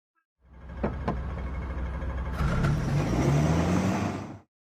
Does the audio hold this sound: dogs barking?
no